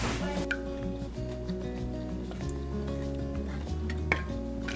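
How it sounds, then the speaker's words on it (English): Butter melting in a pot for a loaded potato soup, soft sizzling under scattered metallic clinks and stirring scrapes of utensils against the pot, close and moderately loud. "so the butter's almost melted"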